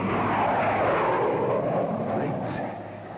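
Low-flying airplanes roar overhead in a loud, sustained broadband rumble that holds steady for about two and a half seconds before easing slightly, set in a 1930s–1950s film trailer soundtrack.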